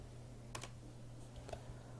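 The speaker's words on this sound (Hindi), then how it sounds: "यहाँ पर हम सबसे पहले टाइप करते हैं" Typing on a computer keyboard while filling in a Google Sheets script, heard as a few short bursts of key clicks separated by pauses, fairly quiet over a steady low hum.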